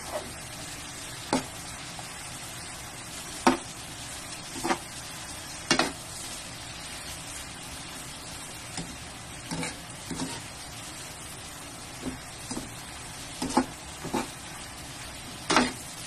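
Beef frying in hot oil for pigar pigar, a soft steady sizzle with scattered sharp pops and crackles spaced every second or two.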